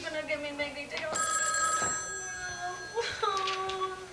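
A telephone bell rings in a home, trilling bursts heard close with people talking over and between the rings.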